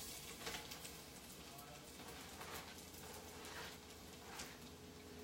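Food for taco soup sizzling in a pan after being dropped in, a steady soft crackle and hiss running through with a few brighter spits, moderately near and faint, no talking.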